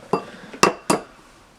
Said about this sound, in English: Now, first off, we have to separate our eggs.